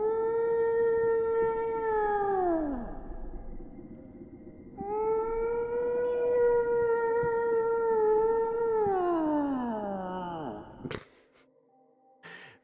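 Fake whale calls played on a piccolo flute, long sliding tones that hold then bend downward in two drawn-out phrases, loud and close, ending with a short clatter.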